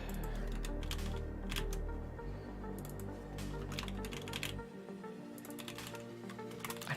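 Computer keyboard keys clack in quick clustered bursts of typing, close and crisp, with short gaps between runs over a low background hum.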